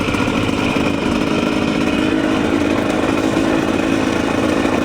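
A TE300 dirt bike engine runs in a dense, rough buzz that stays loud and steady throughout, with no pauses and no voices over it.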